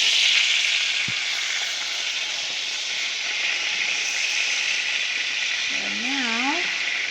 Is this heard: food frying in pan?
yes